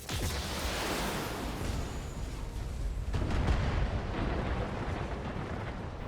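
Continuous roaring barrage of explosions destroying turret generators in the BattleTech video game, dense rumbling booms and crackling blasts blending into one loud sustained wall of noise with a brief lull midway.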